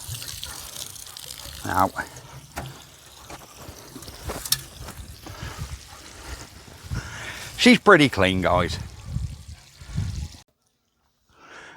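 Water gushing and dripping as it flushes through a tractor radiator outdoors, with someone talking over the splashing and trickling before it cuts to silence.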